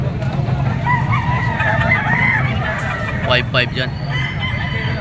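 Roosters, including a yellow-legged bull stag, crow and cluck amid a busy Batangas poultry market, with a steady rumble of crowd noise and a brief burst of crowing near the end while someone talks throughout.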